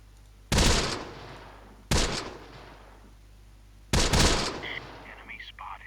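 Gunfire in the WWII strategy game Close Combat: The Bloody First, with three separate loud bursts of shots spaced a couple of seconds apart, each trailing off in echo, and faint in-game radio voices afterward.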